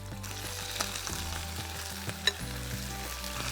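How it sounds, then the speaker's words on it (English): Steak sizzles and spits in very hot oil in a pan over high heat, a constant crackling hiss with a few sharper pops and faint clinks, no voices. "we're just going to drop in the steak."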